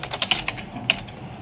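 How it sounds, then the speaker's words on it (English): Rapid keystrokes on a computer keyboard at a school computer, a quick run of several sharp clicks followed by a later lone tap, close and fairly quiet with no talking. "I click anywhere on the screen, and I can begin typing"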